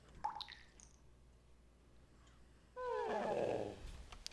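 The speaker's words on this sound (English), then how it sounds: "it's going to show this weird cutscene where you can hear them dripping into his ears" Eye drops dripping into a character's ears in a Zelda: Ocarina of Time cutscene: a few faint wet drips early on, then a louder squishy, gurgling liquid burst near the end.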